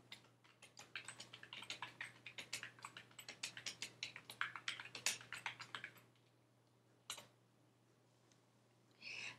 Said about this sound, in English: I'm just going to type it here